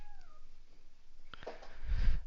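A pet cat meows in a short rising-and-falling call near the start, then thumps and rustling build to a louder low rumble by the end, no speech.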